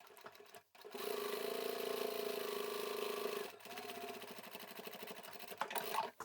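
A sewing machine with a size 90 needle runs a long, steady stitching burst through vinyl for a bag, pauses briefly, then resumes in a quicker rhythmic run, close and fairly loud.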